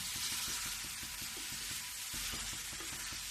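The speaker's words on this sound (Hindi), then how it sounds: "अब ये जो खोवा डाली हूँ इसको भी मैं अच्छे से मिला देती हूँ।" Khoya is stirred into carrot halwa in a pan, giving a soft steady sizzle with a faint repeated scraping of the spoon through the thick mixture, close and fairly quiet, with no talking.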